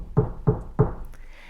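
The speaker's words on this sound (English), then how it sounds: "The knock on the door came just as she took a deep breath." Three firm, evenly spaced knocks on a wooden door, close and clear, with a quiet pause after.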